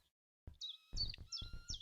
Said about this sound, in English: the nightingale continued her singing